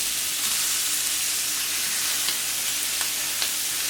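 Veal sizzles on a hot plancha in a loud, dense, continuous hiss of frying, close up, with a few faint ticks and no talk.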